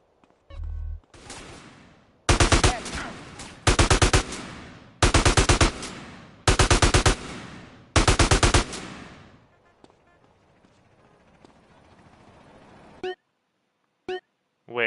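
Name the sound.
AK gunfire in GTA San Andreas video game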